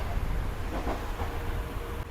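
A Green Line Express passenger train runs toward Noor Junction station in Pakistan, with a steady low rumble and broadband hiss of a moving railcar heard from inside the coach, loud and continuous with no talk.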